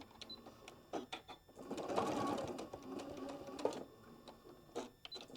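Sewing machine stitching a fabric scissor pouch, running a short line of closely spaced stitches about an eighth of an inch from the edge: a steady rapid mechanical whir with brief starts and stops, fairly quiet and close.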